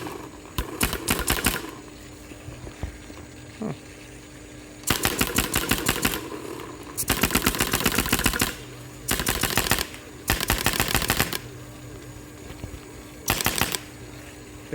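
A Nova N4 paintball marker fires 5-Star paintballs in rapid bursts, loud and close. Rattling strings of shots alternate with short pauses and a few single pops.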